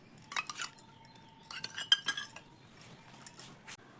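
A spoon clinks and scrapes against a mixing bowl while whisking sour curd, in quick bursts of bright metallic taps with short pauses between them.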